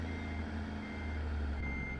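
A Peterbilt 389 truck in American Truck Simulator backs up with its reversing alarm sounding, a steady high tone held over a loud, continuous low engine rumble, with no voices.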